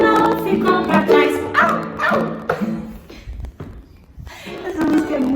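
Voices imitate a dog in a lively children's church song, with rhythmic yipping, barking calls woven through the sung phrases, loud and close, briefly dipping quiet before the voices return.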